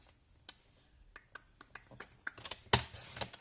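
A card mat layer is cut with a paper trimmer: a run of small, scattered clicks and taps up close, with one sharper snap near the end, and no voices.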